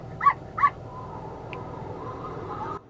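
Two short, bright cartoonish dog barks from a Google Assistant joke play in quick succession inside a 2024 Nissan Rogue, followed by a soft, steady breezy whoosh that runs to the end.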